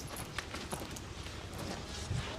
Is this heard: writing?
no